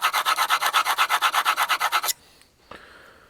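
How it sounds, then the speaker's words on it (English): A chisel scrapes paint off a cheap sign in about eighteen quick, even strokes, each a harsh rasp, close and loud. It stops abruptly and is followed by near-silence and one faint knock. "All this work just to scrape paint off a cheap sign."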